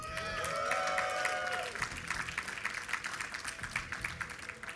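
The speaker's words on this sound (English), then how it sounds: "So give a cheer for Liquid Sheth." Crowd at an esports tournament match between Liquid Sheth and DeMuslim, with loud applause and cheering rising at the start, then thinning into scattered claps and crowd noise as the cheering fades.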